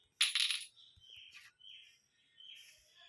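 A key dropped on the floor in the video game Granny Chapter 3 lands with a bright, brief metallic clatter, followed by quieter, thin chirping tones from the game.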